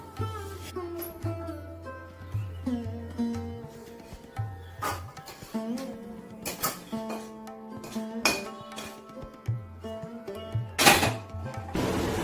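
Sweet coconut naru mixture being stirred in a pan while cooking for a Lakshmi Puja offering, with repeated clinks and scrapes of a utensil against cookware over a faint steady background.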